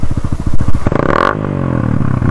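A motorcycle with a short stock exhaust pipe, recently fuel-injection cleaned, idles with a pulsing throb, then is revved hard into a loud rising roar that holds steady and close, with no talking.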